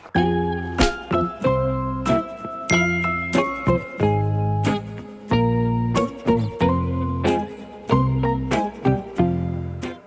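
A phone's message notification tone rings out loud and close, repeating a bright, bell-like chiming figure in steady cycles for about ten seconds with no voices.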